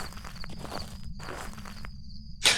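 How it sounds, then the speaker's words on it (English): Ghost footsteps in the horror game Phasmophobia, a few soft irregular steps with quiet pauses between them, ending in a louder scuffing burst. "I swear I heard ghost footsteps coming from that direction"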